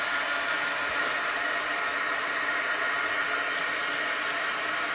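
A hair dryer blows steadily and loudly at close range, drying a freshly applied chalk paste transfer, a continuous even whoosh with no voices.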